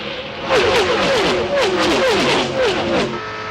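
NASCAR stock cars at the 1997 Pepsi 400 roar past in a dense, loud pack, engine pitches repeatedly sweeping up and down as cars close in and pull away, with a voice talking over the racing.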